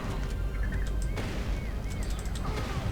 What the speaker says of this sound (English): What the hell's shooting me up?